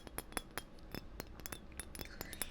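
Glass clinking in a café-style setting: a series of bright, sharp taps and chinks spread irregularly across a couple of seconds, fairly close and quiet, with no talking.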